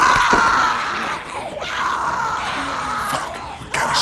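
A woman screams in The Walking Dead video game, a sustained, strained cry that wavers and breaks over about four seconds, loud and close, with no other voices.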